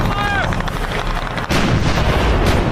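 Heavy shell and tank fire from a World War II North Africa battle booms in loud, rumbling blasts, one sharp detonation mid-way amid continuous low, thundering gunfire.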